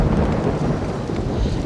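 Steady rain and rumbling thunder fill the ambience of the Roller Coaster Tycoon 3 video game, a dense, continuous loud wash of falling water with a deep rolling roar beneath it.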